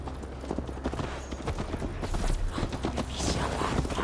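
Horse hooves clip-clop in a steady riding rhythm in Assassin's Creed Valhalla, moderately close with light ambient game sound beneath.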